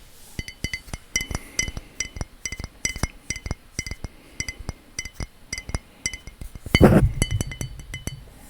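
Sharp glass clinks and taps on a uniquely shaped glass container, struck in quick irregular bursts at close range, with a brief rattling flurry near the end and no talking.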